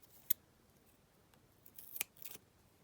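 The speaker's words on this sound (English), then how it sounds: "just take my double-sided tape and then just cut it" Scissors snipping through double-sided tape at a craft workbench: a single sharp snip, then a short cluster of quick cutting clicks, close and quiet with no talk.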